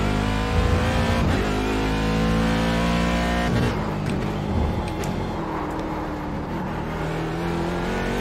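A race car lapping Daytona in iRacing during night/day endurance testing drones loudly at high revs, its pitch shifting through gear changes and easing off near the middle, close and continuous without speech.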